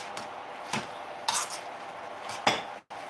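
Potatoes being mashed in a pot for colcannon, with a few scattered clanks and scrapes of a metal utensil against the pot, fairly quiet, at irregular intervals.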